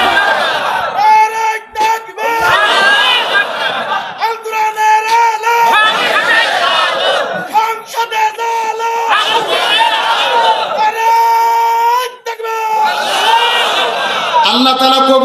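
A large waz gathering's congregation bursts into loud, repeated takbir chants of Allahu Akbar, many voices roaring together in surging waves with brief dips between rounds, dense and echoing, filling the space throughout.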